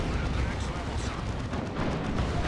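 Executioner cannon and tank artillery fire rumble continuously in the Dawn of War 2 strategy game, a dense, loud barrage of blasts and booming impacts with no clear gaps.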